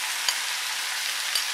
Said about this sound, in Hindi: और अब हम इसमें डालेंगे सॉस जो हमने तैयार किया था, टमाटो सॉस, चिली सॉस और सोया सॉस और चीनी के साथ